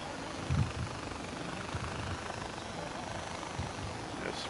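A helicopter in the video game Far Cry 4 drones steadily with a rotor rumble that holds at an even level, with a brief louder thump near the start and no speech.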